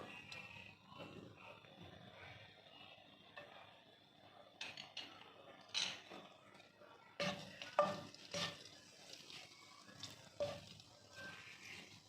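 A pan cooks ingredients for chicken vegetable spaghetti with a faint, steady sizzle and irregular stirring scrapes and clinks of a utensil against the pan, all soft and close.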